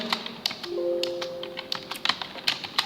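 Rapid keystrokes clatter on a computer keyboard as Python code is typed, a quick uneven run of sharp taps close by with a brief faint tone underneath, no voices.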